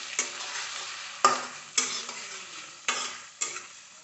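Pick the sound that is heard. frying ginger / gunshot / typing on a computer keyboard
frying ginger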